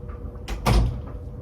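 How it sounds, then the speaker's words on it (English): A room door is pushed shut in a small home space: a muffled double thump, a soft knock followed by a heavier close, heard alone at moderate loudness. "I'm gonna shut this door real quick"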